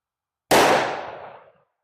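A single loud shot from a 10mm pistol goes off at a chronograph test with Eclipse Black brass. It cracks sharply and then decays over about a second, isolated, with silence before it and no talking.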